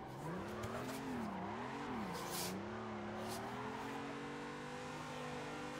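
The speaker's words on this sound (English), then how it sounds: "I'm actually drifting, guys." A car drifting with its rear tires spinning gives off a revving engine that wavers up and down, overlaid with a loud, sustained tire squeal and short bursts of skidding.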